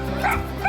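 A dog gives a short tonal whimpering bow-wow at a crowded community dog event with costume contests and a parade, close by over a steady background hum.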